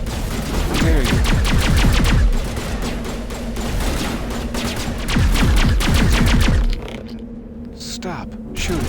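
Mass Effect gunfire rattles in rapid bursts of cracking shots that come in several rounds with short pauses between them, while someone talks over the shooting.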